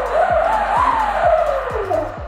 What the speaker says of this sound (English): you should be able to spin your motor